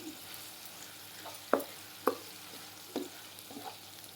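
Semiya kesari with jaggery fries in a pan while a spoon stirs it. A soft, steady sizzle runs throughout, broken by a few sharper scraping knocks against the pan. The sound is quiet and close, with no talking.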